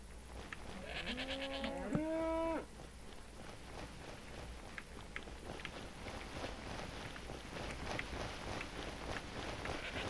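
A Minecraft cow gives one short mooing call over steady game ambience, fairly faint, followed by a long stretch of low background noise with no voices.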